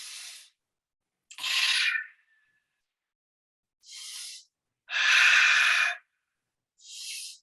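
Deep breaths during a guided meditation come as five slow, separate airy inhales and exhales, close and soft, with silent pauses between them.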